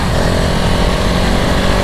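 A KTM 690 Enduro R 2022 riding off-road, its single engine droning loud and close with a steady, continuous rough roar throughout.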